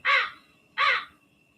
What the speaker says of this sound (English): I've been hearing the crows since yesterday.